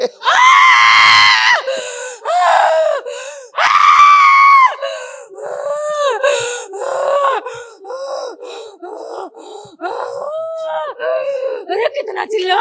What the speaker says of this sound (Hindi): अरे कितना चिल्लाता है